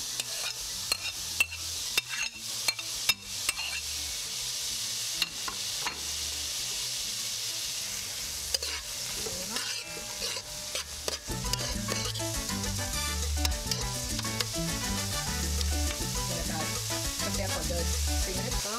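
Red and green peppers sizzle steadily in a hot pan while being stirred, a soft continuous frying hiss with scraping stir strokes that grow busier and louder in the second half.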